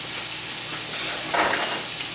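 A pat of butter sizzles in a frying pan at the start of a home stir fry, with a steady faint hiss that grows brighter and louder midway through.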